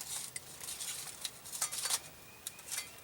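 Squares of Spam go into a very hot frying pan, giving a few light clinks and taps followed by a soft, faint sizzle close by.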